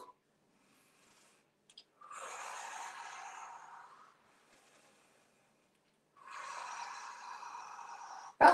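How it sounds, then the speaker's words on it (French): Two long, deep breaths drawn in and let out during a guided relaxation exercise, each a soft airy rush of about two seconds separated by quiet pauses, close and fairly faint with no talking. "Inspire. Expire."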